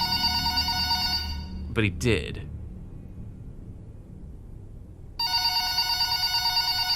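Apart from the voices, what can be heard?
telephone ringing in FNAF VHS video game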